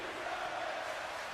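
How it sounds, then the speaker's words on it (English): A wrestling crowd chanting at an indoor event, a steady wash of many voices blended together, fairly distant and even, heard alone for a moment. "The crowd here chanting that he really deserves it"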